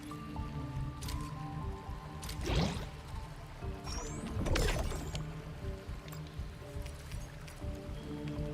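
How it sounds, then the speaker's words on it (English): Bottles being filled with water in the video game Arknights, a continuous gurgling, dripping liquid sound with two louder pouring swells, over steady background game ambience. "take these ferrying bottles and fill them up with water"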